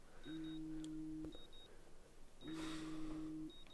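A video-game alarm clock in Life is Strange rings in two long, steady electronic beep tones separated by a pause, faint and alone with a light background hiss.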